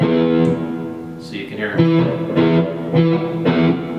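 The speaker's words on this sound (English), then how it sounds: "And then this is the sound of the open low E string." A low electric guitar note, the open low E string, rings and sustains while someone talks over it.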